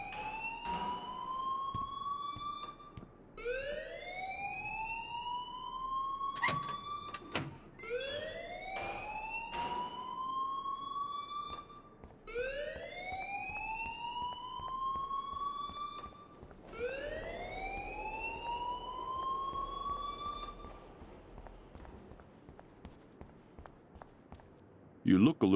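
A wailing fire alarm in the school hallway in Life is Strange Remastered, a rising siren that repeats in long sweeps over about twenty seconds, with voices talking faintly underneath.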